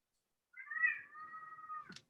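A house cat lets out one drawn-out, fairly loud meow that holds its pitch before ending in a short clipped sound, with silence on either side.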